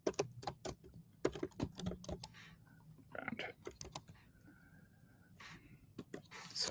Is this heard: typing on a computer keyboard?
yes